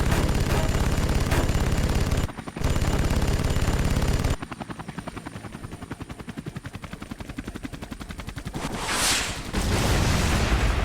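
Triple rocket salvo fired from an aircraft in Air Conflicts Vietnam, loud and dense, with rapid rattling bursts and a rushing whoosh over continuous engine roar, broken by a brief gap.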